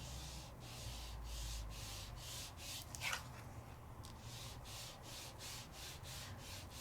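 Ink is rubbed onto all four edges of a paper mat in steady, repeated strokes, a soft rhythmic scuffing that pulses evenly at close range with no talking.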